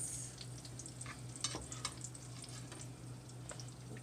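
Eggs being scrambled in a pan give a steady, soft sizzle and crackle, with a few louder clinks and scrapes of stirring, over a constant low hum.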